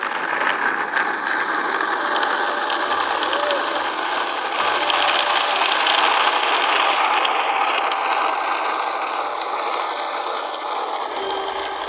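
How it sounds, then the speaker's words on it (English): Skateboard wheels roll down a hill with a steady rough broadband rumble that swells midway and stays fairly loud throughout, with faint voices under it. "I'm gonna try skateboard down this hill"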